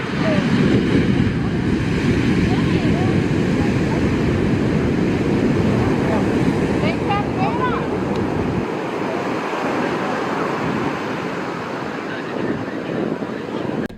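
Surf breaks and churns along an ocean beach in a continuous roar, with gusts of wind rumbling across the microphone and a slight easing of the low rush near the end.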